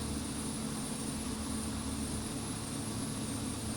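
Steady drone of twin turboprop engines on a King Air C90B in cruise flight in the X-Plane simulator, a constant even roar with a thin high whine on top and no voices.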